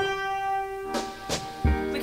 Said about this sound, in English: we can represent the color red using a G note, which would sound like this.